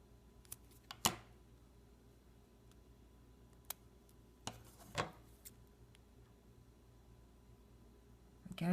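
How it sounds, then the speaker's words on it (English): Scissors snip through a rubber loom band on a small loom-crafted pig figure, producing a few sparse, faint clicks spread over a quiet stretch, with a slightly louder rustle near the end. "I'm going to cut that rubber band"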